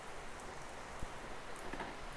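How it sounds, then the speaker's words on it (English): Heavy rain falls as a dense, even hiss of drops on surfaces, steady and moderately faint with an occasional louder patter. "the rain is really heavy"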